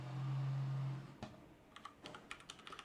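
Computer keyboard typing of a commit message, a quick irregular run of close key clicks following a brief low hum, with no talking.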